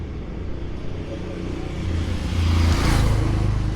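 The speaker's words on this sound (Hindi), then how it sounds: "गाड़ियाँ भी आती जा रही हैं, सड़क है, ट्रैफिक को रोका नहीं जा सकता" Road traffic rumbling past outside a Catholic church at night, a steady low drone that swells as a vehicle draws near and passes.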